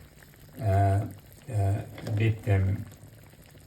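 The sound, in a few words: crab curry gravy boiling and bubbling in pot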